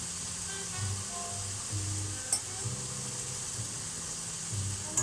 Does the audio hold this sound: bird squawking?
no